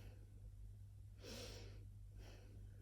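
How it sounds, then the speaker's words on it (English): A single slow, deep inhalation rises from about 1.2 s to 1.8 s, followed by a fainter breath near 2.3 s, all over a steady low hum during a calm guided meditation. "taking a deep breath in"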